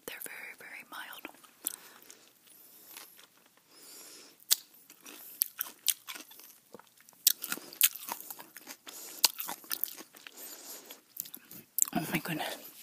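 Someone chews a hamburger topped with mild pepper chilies close to the mic, soft crunching and biting sounds coming in irregular bursts with whispery mouth noises and brief pauses.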